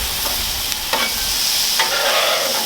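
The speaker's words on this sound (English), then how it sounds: "we've let the meat brown on the other side. Now it's time to flip her." Thin browned meat sizzling loudly in a pan during the turn for a lazy burrito bowl: a steady close frying hiss, broken by several sharp scrapes and clicks of the utensil.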